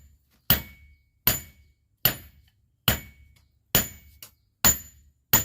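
A blacksmith tests spring steel by striking it with a hammer, sharp ringing metallic blows repeating about every 0.7 seconds, loud and close, each decaying quickly with a bright clink.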